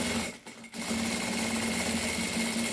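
A sewing machine stitches a fabric vaccination card holder, running in a fast steady whir, briefly pausing near the start before driving on continuously and fairly quiet.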